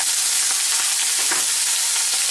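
Chopped mushroom stems and garlic frying in oil over medium-high heat, a loud, dense sizzle with crackling pops and a brief stirring scrape, heard up close with no voices.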